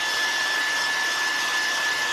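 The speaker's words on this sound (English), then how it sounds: "A blow dryer will work just as well." A blow dryer roars in a constant, loud airy rush close to the microphone while drying paint and drywall compound on a DIY Halloween ghost craft.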